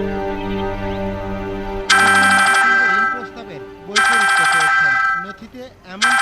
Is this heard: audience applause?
no